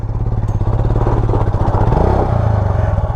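Motorcycle engine accelerating uphill on a hill road near Gavi Betta, Sakleshpur, a loud, close, pulsing throb that climbs in pitch partway through.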